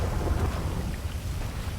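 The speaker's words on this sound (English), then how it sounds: "Oh, it's thunder out here." Steady outdoor rain with a low continuous thunder rumble, dense and fairly loud throughout, no voices.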